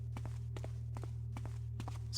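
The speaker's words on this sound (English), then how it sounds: "Hear more footsteps. There's always more footsteps." Footsteps in the stealth game Thief Gold fall in a steady walking rhythm, about a dozen soft paired steps over a constant low electrical hum, with no voices.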